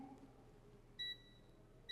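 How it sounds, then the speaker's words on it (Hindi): A multimeter on continuity test checking a bidirectional TVS diode to ground gives a faint, thin electronic beep, one short tone followed by the start of another, close but quiet, with no talking. "तो देखिए ये बीप देता है"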